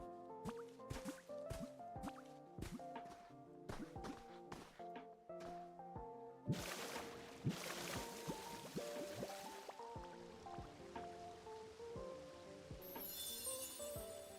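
Water flows in the Pokémon Pokopia video game: bright plinking drips in a steady rhythm over light game tones, then a louder rush of pouring water swells and carries on beneath them.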